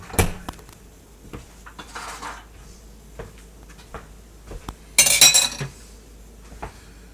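A small disposable loaf pan is handled in a kitchen, giving a few sharp clattering and crinkling knocks spread across several seconds, with one brighter metallic rattle near the end and quiet gaps between.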